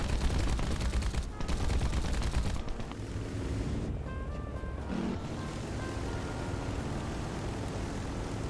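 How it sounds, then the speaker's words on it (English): Early-plane aircraft machine guns firing in War Thunder, with dense rapid bursts over a roaring engine for the first few seconds, then continued engine drone with lighter sounds. "It feels really chunky, the guns in this game"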